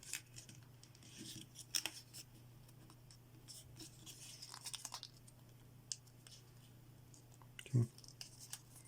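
Paper being folded by hand for an origami Big Head Monster model: quiet, close crinkles and soft rubbing creases scattered across the stretch, with one sharper crisp press near the end and a low steady hum beneath.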